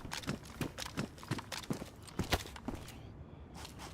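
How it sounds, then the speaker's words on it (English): Footsteps crunch at a steady walking pace in the game DayZ on the Chernarus map, about a dozen close steps in a row before a brief lull and one last step. "Did I hear extra footsteps there?"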